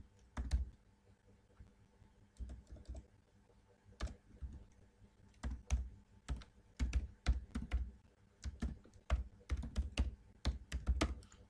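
Keys clatter on a computer keyboard as an email address is entered, bursts of quick clicks separated by short pauses, close and fairly quiet with no talking.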